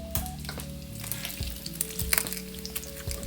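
Bacon sizzles in a pan in a cooking game, a soft, crackling fry beneath layered electronic tones and sharp clicks and clatters from the game.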